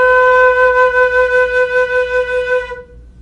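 One sustained musical note B held steadily for close to three seconds, clear and close with no voices, then ending abruptly.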